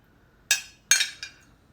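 A spoon striking a container while stirring drops of blue colouring, giving three sharp bright clinks, the second followed quickly by a softer third, close and clear against near silence.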